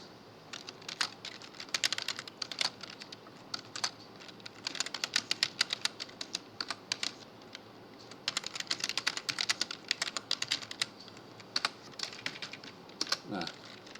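Rapid bursts of computer-keyboard keystrokes while entering Python code, close and crisp clicks in uneven clusters separated by short pauses, with soft room noise between runs.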